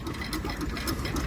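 A 1921-22 Bulldog hit-and-miss stationary engine runs at a vintage rally, a steady close mechanical chugging with rapid repeating beats and a continuous broadband rumble.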